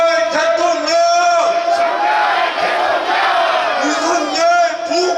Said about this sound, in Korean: 마지막으로 구호 외치고 들어가겠습니다